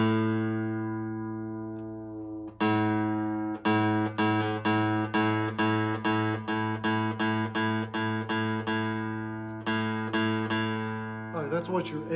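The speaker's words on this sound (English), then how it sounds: "That's what your A string should sound like." A guitar's open A string, the fifth string, is plucked repeatedly for tuning, ringing as a steady close note with over a dozen rhythmic re-picks and a few strums toward the end.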